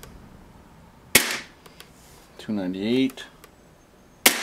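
Sharp gunshots from a Smith & Wesson M&P pistol, likely an airsoft replica, cracking twice several seconds apart at close range, with a brief spoken voice between them.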